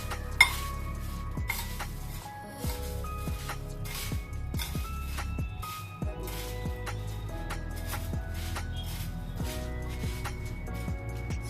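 Spoon scraping and clinking against a bowl while bhel snack is mixed, a close series of uneven metallic taps and rattles with rustling of dry puffed rice between them.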